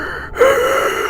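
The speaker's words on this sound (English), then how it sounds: "Then you will hear a loud gasp" A sharp, loud gasp from a tech priest in a Dark Heresy tabletop role-play scene, one quick intake of breath standing alone with no talk over it.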